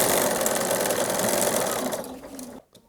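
Steady, loud hum of a sewing machine stitching quilt binding toward the quarter-inch seam, running continuously, then tapering near the end and stopping with a faint click.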